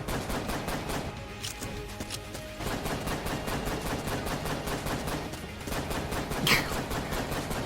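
The chamber gun in Enter the Gungeon fires in rapid, steady repeated shots, a dense continuous patter of gunfire with a brief lull and one sharper burst near the end, with no talk.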